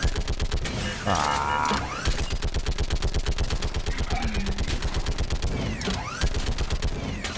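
Mounted gun in Mass Effect 3 firing rapid, evenly spaced bursts of shots, loud and sustained, with mechanical creaks and impacts mixed in and a brief voice exclamation.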